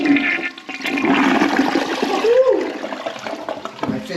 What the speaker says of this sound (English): Flush it again.